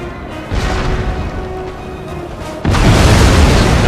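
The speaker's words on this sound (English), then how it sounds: "Annoying rocket troops just continue to pound on them." Rocket troops firing during a battle on the Waterloo map in Napoleon Total War, a rumbling barrage of booms that swells into a louder, heavier roar partway through.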